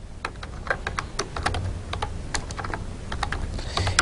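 A computer keyboard clatters steadily as code is typed, with close, sharp keystrokes arriving in irregular quick bursts and no voices.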